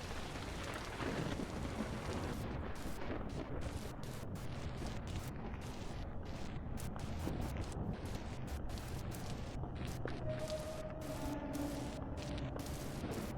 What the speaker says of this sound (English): Let's introduce Temporal Storms.